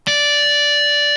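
Single guitar harmonic chimed at the 5th fret of the 4th string, a pure bell-like tone with bright overtones that rings steadily at full volume for about a second, close and alone.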